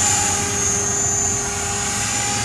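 A steady, loud high whine and buzzing rotor drone come from a TREX 500 RC helicopter hovering close by, holding constant throughout with no talk.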